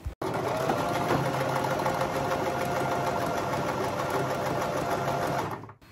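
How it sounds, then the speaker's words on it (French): A sewing machine runs steadily stitching fabric strips end to end for pyjamas, a continuous fast mechanical whirr and rattle close by that stops abruptly at the end. "je vais donc venir les coudre bout à bout, ici, et donc aussi ici"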